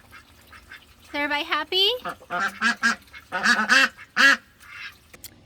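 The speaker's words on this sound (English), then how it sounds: "They are getting way too excited with me in there and they won't stop quacking" Excited ducks waiting for their pool quack loudly in repeated bursts at close range, while someone speaks a short question over the calls.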